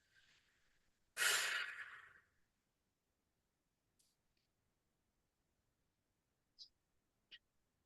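A single long, breathy exhale during a stretching exercise in a breathing class, close and soft, followed by near silence with a few faint clicks.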